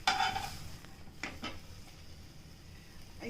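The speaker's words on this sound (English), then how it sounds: "I just mash my gongura like this." Gongura leaves mashed in a pan for Andhra gongura pachadi, giving a few soft scraping and stirring knocks of a utensil against the pan at close range, with no voices.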